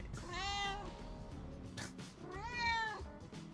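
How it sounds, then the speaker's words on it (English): An old pet cat meows twice up close, each call a drawn-out wavering cry with a brief pause between them. "This is what I get for having 2 old cats that I've drug across the country with me."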